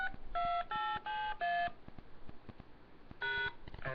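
A PIN is punched into a telephone keypad, giving four evenly spaced DTMF tones, a pause with faint line clicks, then one more tone, all clear and close on the phone line with no talk.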